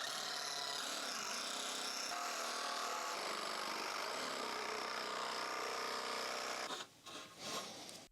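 A power tool cuts wooden deck boards for the floor of an octagonal gazebo, a loud continuous whining cut running for several seconds before tapering off into a few short bursts.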